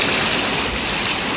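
River water rushing steadily near Maibang in Assam, a continuous close broadband roar of flowing current with no voices over it.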